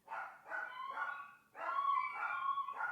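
Several dogs bark and howl in two long bursts, with yips and drawn-out, mournful wavering tones and a short pause between them, fairly close and clear.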